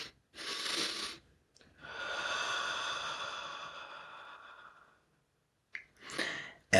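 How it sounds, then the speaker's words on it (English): A person breathes in, broken by a short pause, then lets the air out slowly in a long, soft exhale, close and quiet, followed by another brief breath. "I call it a truncated breath, an interrupted breath"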